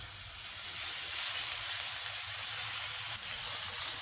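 Garlic sizzles in hot oil for a Sudanese salad, giving a steady, bright hiss that holds constant throughout, with faint low rumble underneath and no talking.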